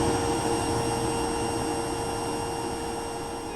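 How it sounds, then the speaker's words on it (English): A Hoover vacuum cleaner runs with a steady, close motor whine and broad airy hiss, unbroken for the whole stretch. "Your mother came in with a Hoover and asked you to tell her what note it was."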